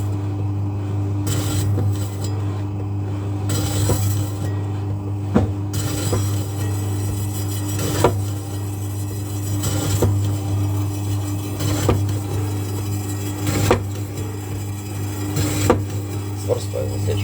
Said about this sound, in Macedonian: Вклучиме машината и сега може да исечеме неколку парча.